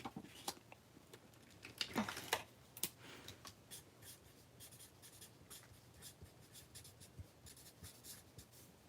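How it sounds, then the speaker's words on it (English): A pen scratches across paper writing a short note, soft quick strokes and taps close to the mic, a denser scribbling burst in the middle, then lighter intermittent marks. "I'm going to write a little note."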